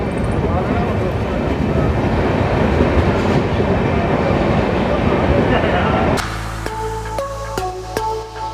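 Kota Janshatabdi Express in motion: a loud, dense rumble and rattle of the moving train for about six seconds, then a sudden drop to a quieter hum with tonal beeps and chimes.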